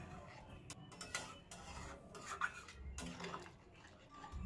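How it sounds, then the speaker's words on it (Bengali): A spatula scrapes and clinks in a pan as curry is stirred with freshly added water, faint and close with irregular metallic taps. "খুন্তির সাহায্যে মিশিয়ে নিলাম।"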